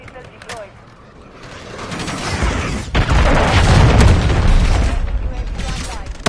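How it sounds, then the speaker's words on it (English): A friendly cruise missile strike in a Call of Duty: Modern Warfare III match: a sharp crack, then a heavy, sustained rumbling boom that swells and lingers, loud and close, with faint battle noise around it. "Friendly cruise missile deployed."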